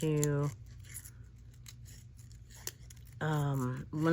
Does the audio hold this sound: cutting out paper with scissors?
yes